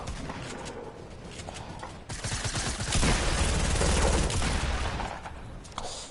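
Turret gunfire in the video game Fortnite, a rapid, sustained stream of shots that swells louder midway before easing off, mixed with other game sounds.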